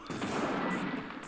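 Gunfire in the PS1 game Alien Trilogy: a rapid, dense burst of automatic shots blurring into one sustained roar, loud and close, lasting just over a second with no talking.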